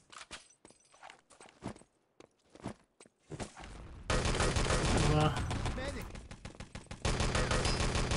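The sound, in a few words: footsteps in the video game Enemy Territory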